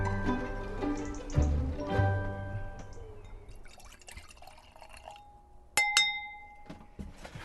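Wine glasses clink together in a toast on a relaxed Saturday evening in a summer house, a few bright ringing chinks that decay slowly, with a soft clatter beforehand.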